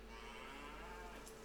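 Young cattle on a farm moo over a steady low hum, one faint and continuous call with no talk over it.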